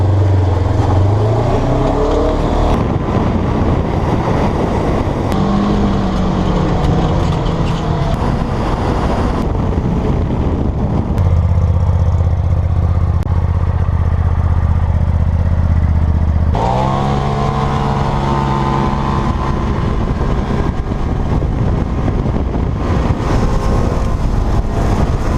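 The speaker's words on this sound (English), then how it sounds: "This is the Ranger 900" A Kawasaki Ranger 900 utility vehicle engine runs steadily as it drives, holding a loud, continuous drone with pitch shifts as it changes speed, close to the listener.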